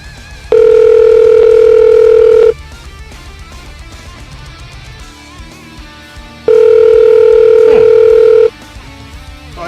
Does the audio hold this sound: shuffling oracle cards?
no